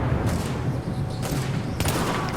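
A few sharp rifle shots crack out in The Division multiplayer shooter, spaced irregularly over a constant noisy battlefield background.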